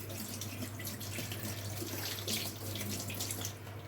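Tap water runs steadily into a kitchen sink while hands are rinsed after cooking beef rendang, a continuous close splashing hiss with a low hum underneath and no talking.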